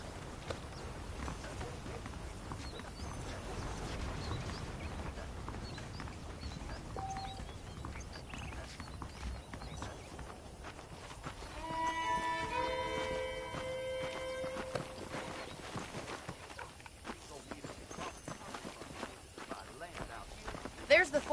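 Horse hooves clip-clop steadily beneath a rider in the western game Red Dead Redemption, a walking rhythm of close hoofbeats running throughout, with someone talking over them and a brief burst of jingling and clatter midway.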